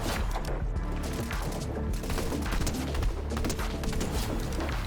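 Rapid gunfire and booming impacts from a first-person shooter played on an RX 9070 XT gaming PC at epic and high settings, loud and dense with mechanical clatter throughout, no voices.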